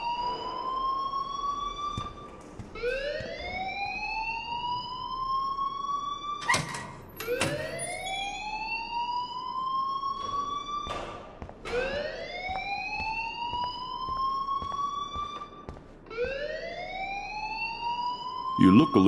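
An alarm in a video game repeats a loud, rising electronic whoop about every two and a half seconds, each sweep climbing and then cutting off, with brief clicks and knocks between cycles.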